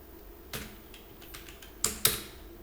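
Keys tapped on a computer keyboard while working in Excel, with a few sparse clicks: one early, a couple of faint ones, then two sharp, close presses near the end.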